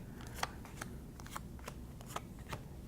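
Playing cards for the board game Hafid's Grand Bazaar are flicked and shuffled by hand to restock the markets, a quick run of soft, crisp riffling snaps at close range.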